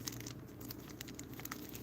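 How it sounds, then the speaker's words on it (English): A Sephora shopping bag crinkles and rustles in steady, close handling as someone struggles to get it open, with small irregular crackles throughout. "I'm having trouble opening the bag"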